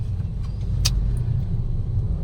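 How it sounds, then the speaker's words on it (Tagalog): Heavy road traffic rumbles in a low, steady drone of idling and creeping cars, with a faint brief jingle partway through and no voices. "grabe, napaka-traffic"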